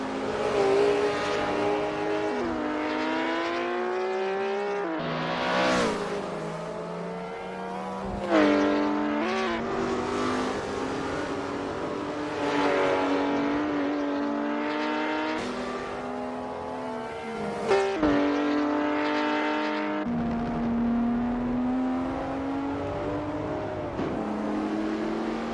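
Racing engines in Assetto Corsa GT Legends at Montreal, including a Ford Capri RS 3100, rev loudly and continuously, with pitch climbing and dropping through gear shifts and braking, close and prominent with no talk.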